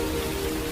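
Heavy rain splashing and pattering steadily on surfaces near a window in strong wind, a dense continuous close wash of sound with no voices.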